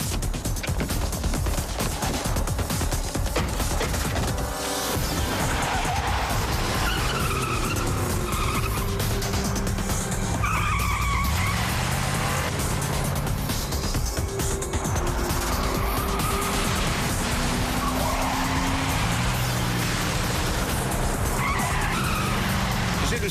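A car speeds off with loud, sustained tyre skidding and squealing over a roaring engine, continuous for about twenty seconds with bursts of screeching and a few sharp bangs in the mix.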